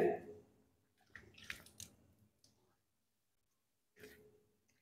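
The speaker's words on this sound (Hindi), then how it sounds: "देखो मैं हर बार नल ऑन कर रहा हूं और नल बंद कर रहा हूं" Water from a tap turned on and off during ablution, with a splashing burst of a second or so, a short pause, then another brief gush, close by in a quiet room.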